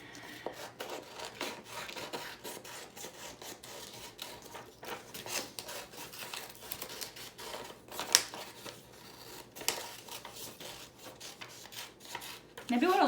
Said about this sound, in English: I love cutting out food that looks good.